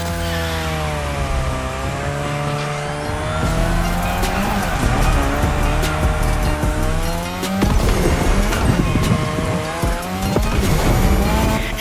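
In The Crew Motorfest, a car drifts around a Japanese drift track, its engine revving high and wavering while tires squeal loudly and continuously through long slides, with no talking.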